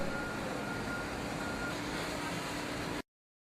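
A reversing truck gives steady, rhythmic backup beeps over a constant low engine and road hum that ends abruptly.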